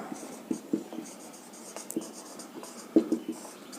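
Pen or chalk scratches out quick writing strokes on a board or paper during a Bengali mathematics lesson on prime numbers, with short scratchy bursts and pauses at close range and no talk.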